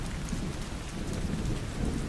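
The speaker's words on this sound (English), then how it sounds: "Listen to the sound of the rain gently falling in the background." Steady rain falls on a surface, a dense, even hiss with soft low rumbling underneath, continuous and moderately loud throughout with no voices.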